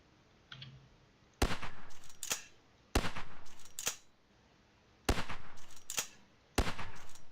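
Sniper rifle fire with explosive rounds in a video game, four pairs of loud, sharp reports with crackling blast tails, spaced about one and a half seconds apart and heard alone.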